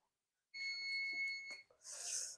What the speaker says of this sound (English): so that is our timer